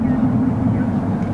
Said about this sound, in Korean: 약간 좀 고성능 같은 우웅 소리가 나고